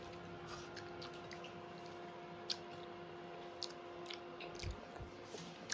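Someone eating Kashmiri khichdi, soft wet chewing and occasional small bites close to the microphone, faint and irregular with no talk.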